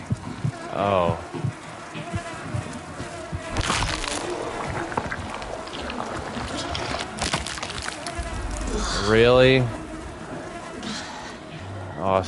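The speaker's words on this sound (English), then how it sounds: "Flies buzzing like that kind of reminds me of Outlast 2" Flies in the horror game The Outlast Trials give off a steady insect drone under a tense soundscape of cracks, thuds and a strained human cry, with a voice speaking briefly.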